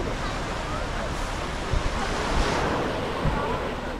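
Ocean waves wash steadily onto Kala Patthar beach on Havelock Island in the Andaman Islands, a continuous broad surf roar mixed with wind buffeting the microphone, with a few soft thumps and no voices.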